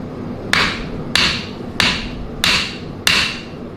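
A blacksmith's small hammer strikes metal five times at an even pace, each blow a sharp, bright ringing clang that decays quickly, close and loud with no talking.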